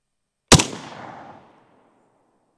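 A single sharp AK rifle shot fired at an outdoor range, from either a PSA GF3 or a Zastava M70, loud and close, followed by a decaying echo that fades out over about a second.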